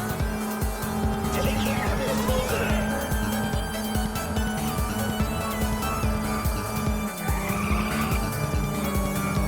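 In the racing game Ridge Racer, cars screech through drifts with long, loud tire squeals over a roaring engine and constant game music, the skids rising and falling through the corners.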